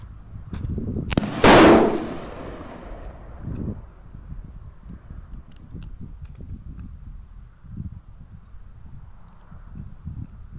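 A Tikka T1x .22 LR rimfire rifle fires with a sharp crack, then a brief echoing tail outdoors at a range, followed by faint handling clicks and quiet shuffling, with no talking.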